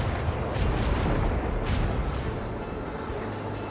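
Starship weapons fire in the Warhammer 40,000 game Rogue Trader: a loud run of booming cannon shots and rumbling blasts, several hits in close succession, with no talking.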